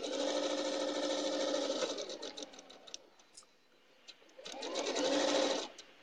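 A sewing machine stitches a log cabin quilt, its steady mechanical whir running in two loud bursts with a quieter, slowed stretch between them as it passes over a pin.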